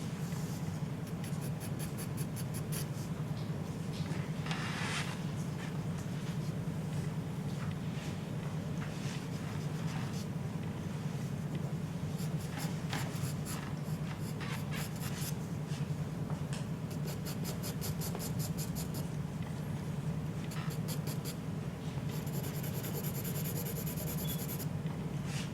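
A pencil scratches and rubs across toned paper while blocking in the hair of a portrait drawing, a close, continuous dry scraping with repeated back-and-forth strokes and bursts of quicker hatching.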